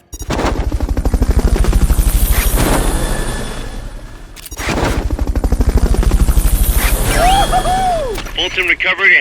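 Fulton recovery helicopter in Metal Gear Solid Peace Walker, a loud, rapid rotor chop that swells and dips, broken by a short gap and then joined near the end by warbling electronic game tones.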